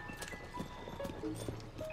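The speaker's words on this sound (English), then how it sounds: "The horses are around here look so carefree" Horses in Hyrule Field in Zelda: Tears of the Kingdom, with soft rhythmic hoof clip-clops and brief neighing calls, faint and mixed with game music.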